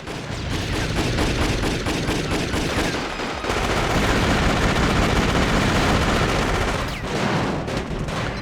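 Dense, sustained automatic gunfire in the action video game Jet Li: Rise To Honor, with rapid overlapping shots and a brief break near the middle, loud and continuous with no talking.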